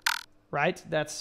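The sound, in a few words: pitch-shifted synth sound, frog-like, in a drum and bass tutorial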